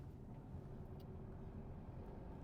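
A car's engine hums low and steady while gently accelerating during a driving lesson, a faint, even rumble with no distinct revving and no voices.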